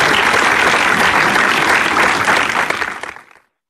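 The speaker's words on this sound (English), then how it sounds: "Please give them a good round of applause." Loud applause from an audience at a school annual day prize giving, a dense sustained burst of clapping that fades out and stops near the end.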